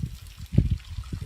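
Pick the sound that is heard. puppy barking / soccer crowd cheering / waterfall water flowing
waterfall water flowing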